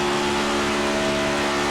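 A race car engine in a racing video game at Daytona, revving steadily with a loud, sustained droning tone that holds throughout.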